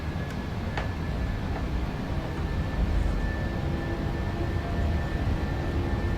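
The engines of a PMDG 737-800 in Flight Simulator spool toward takeoff thrust, a dense, steady roar with a faint high whine running through it, continuous and close with no voices.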